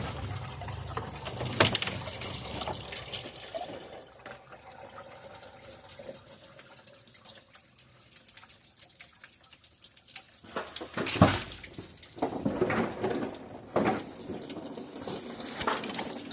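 Water running through the cooling system and water pump of a 2015 Chevy Silverado with a failed radiator, a continuous splashing flow with louder bursts and clatters near the start and again toward the end.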